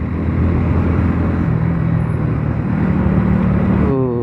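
Dense road traffic heard from a moving motorcycle during a ride, a steady loud rumble of engines and road noise throughout with a brief higher hum near the end.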